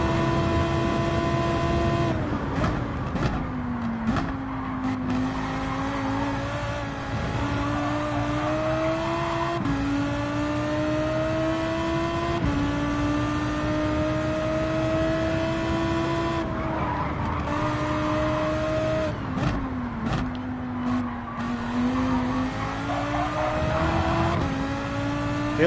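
A Lamborghini GT3 race car lapping Dragon Tail Seaside in Gran Turismo 7, its engine note climbing loudly through repeated upshifts with bursts of tire squeal, close and continuous, with no talk.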